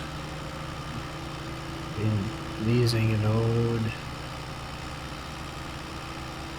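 A small tractor engine idles in Farming Simulator 22, a low steady hum that swells louder for a couple of seconds mid-clip before settling back, with a voice speaking over it.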